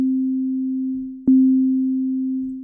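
A Bitwig synthesizer plays a single sustained C note with voice stacking, a pure steady tone held alone, broken by one brief click partway through before the note continues unchanged.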